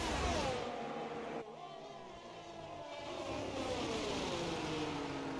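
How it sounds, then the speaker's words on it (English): Race cars in a racing video game brake hard into a corner and then power back up through the exit, engine notes dropping sharply and rising again in a continuous whine, with faint commentary underneath. "As they brake heavily into turn 3 and power on the acceleration through the exit."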